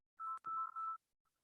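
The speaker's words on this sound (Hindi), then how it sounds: "फोन आ रहा है।" A phone's ringtone, three short clear electronic beeps in quick succession close by, followed by silence.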